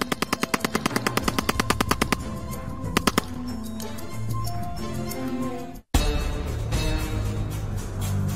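German MP40 submachine gun firing rapid, evenly spaced bursts of loud, close shots, then a sustained dense clatter of automatic fire that briefly cuts out and resumes.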